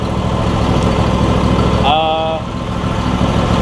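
A Briggs and Stratton engine runs steadily on a John Deere E140 lawn tractor after sitting unused for at least three years, idling loud and close, with a brief exclamation from a person partway through.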